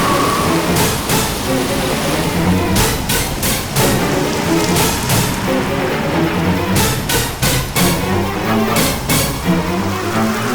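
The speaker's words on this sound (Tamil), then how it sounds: "வீட்டில் மழை பெய்யுது" Heavy rain pours steadily indoors through a house in a Tamil drama scene, a dense continuous hiss with louder bursts of drops and splashes, close and unbroken throughout.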